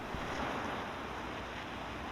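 Steady broadband wash of ocean surf at a beach, continuous and fairly close, with wind noise over the microphone and no talking.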